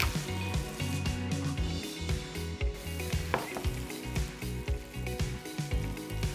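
Shrimp sizzling in a pan with garlic, a steady frying hiss with scattered crackles and a few soft utensil knocks, close and moderately loud, with no talk.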